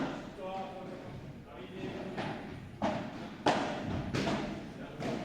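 A padel ball strikes low on the glass wall near the bottom during a tournament rally. Several sharp, hollow knocks land a second or so apart over a steady background of indistinct voices.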